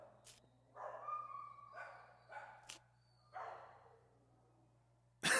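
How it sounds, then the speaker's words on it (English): Short bursts of small puppy yips and whimpers, four or five separated by pauses, close by, ending with a sudden louder noise. "Well, Abby, these little pit bull puppies have had a rough life."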